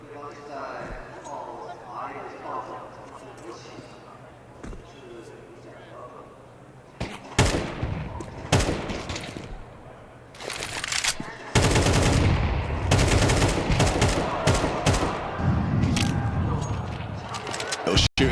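Bursts of gunfire in a Counter-Strike match at the PWE Shanghai Major, Rare Atom versus MIBR: sharp shot clusters from about seven seconds, then a dense sustained volley toward the end, heard over continuous commentator talk.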